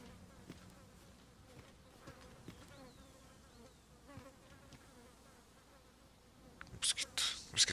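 Insects buzz steadily in the ambience of the video game Dragon's Dogma 2, a faint continuous drone under scattered quiet game sounds, with louder bright bursts near the end.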